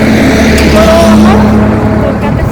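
A scooter racing along at full speed gives a loud, steady roar of engine and rushing wind that continues unbroken and close throughout.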